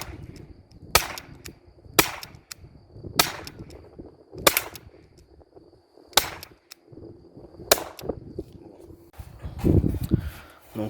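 An HDR 50 pistol fitted with a new cartridge fires about eight sharp, loud cracks at irregular intervals of one to two seconds, with a low hiss and faint background noise between the shots.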